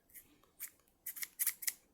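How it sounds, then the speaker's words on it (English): Fabric scissors snip several times in quick succession, close and crisp, with short sharp cuts spaced irregularly and no talking over them. "You need fabric scissors."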